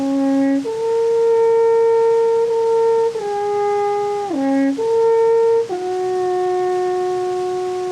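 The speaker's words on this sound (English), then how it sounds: "The alpenhorn, it's a magnificent instrument to look at" Long sustained alpenhorn notes played outdoors high in the Alps at about 1800 meters, a loud, mellow horn tune of several held tones that step between pitches, with no voices.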